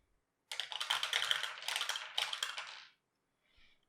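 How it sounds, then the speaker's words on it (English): Five dice rattle and tumble across a table in a Dice Throne board game, a dense clatter of hard clicks for about two and a half seconds, then a faint final tap. "Mine got upgraded, so I can now roll 5 dice"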